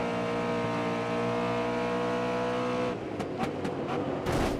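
A race car in GRID Autosport drones steadily at high revs, then a rival car sweeps past on the outside with a shifting roar and brief bursts of engine noise, with no voices.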